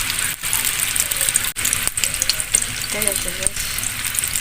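Vegetable-filled samosas in wonton wrappers fry in hot oil over medium heat, giving a loud, continuous bubbling sizzle, while a voice speaks briefly over it.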